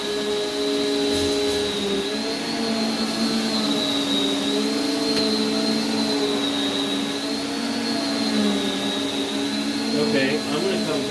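A Prolux CTX water vacuum cleaner runs steadily and loudly throughout, with a sustained whine and a layered motor drone that holds its pitch without a break.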